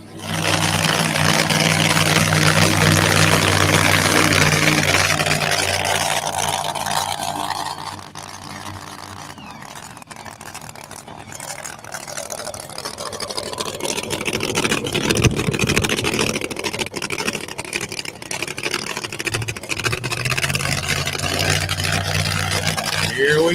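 A truck engine runs steadily at close range, its low rumble shifting in level as it idles and revs, with voices talking over it.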